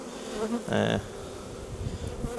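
Honeybees buzzing around a beekeeper's hive, a steady low drone of many bees with one louder buzz passing close by for a moment.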